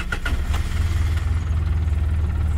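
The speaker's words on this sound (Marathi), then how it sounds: "बाईकचा तो आवाज परिसरातील शांतता भंग करीत होता" A kick-started motorbike engine running steadily with a low, continuous rumble, loud and close, a couple of brief clicks near the start and no voices.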